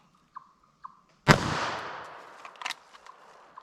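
A single .380 ACP full metal jacket round fires in one sharp, loud report with a ringing decay, preceded by two faint clicks and followed by scattered small knocks.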